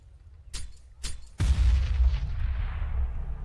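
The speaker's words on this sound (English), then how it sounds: "Damage done by the nade" A grenade detonates in a Counter-Strike match at a professional tournament, a heavy booming blast with a long rumbling tail, preceded by two sharp gunshot cracks.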